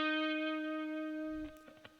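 A single guitar note on the third string at the 8th fret rings out steadily and fades slowly, closing with a few faint taps and handling noises.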